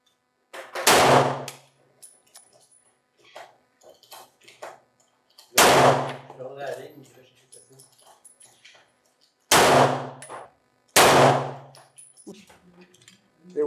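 Loud gunshots at an indoor pistol and rifle shooting club, four sharp reports spaced several seconds apart, each with a ringing echo, with people talking quietly between the shots.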